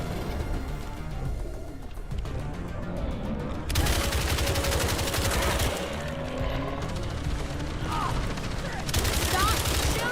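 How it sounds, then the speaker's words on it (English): Rapid automatic gunfire rattles in the video game Toxic Commando, dense sustained bursts that stop and restart in loud volleys, with a voice talking over parts of it. "Stop shooting."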